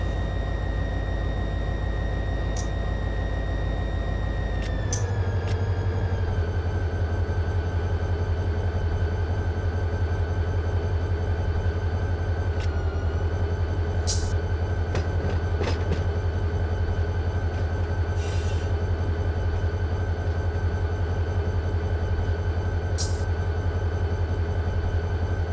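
A locomotive runs steadily in the Run 8 Train Simulator game on the Roseville Sub, a continuous low engine drone with a faint whine and a shift in pitch partway through, plus a few light clicks.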